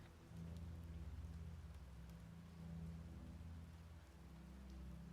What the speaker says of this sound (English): Rain pattering against your skin.